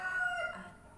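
A rooster gives one short, fairly faint crow, its strained tonal call rising briefly and then trailing off into near silence.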